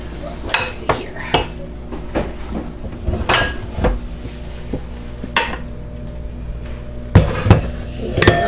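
A large bowl is taken out of a kitchen cupboard, with close cupboard doors thudding, dishes clinking and clattering against each other, and a few sharp knocks in an irregular burst of kitchen handling noise.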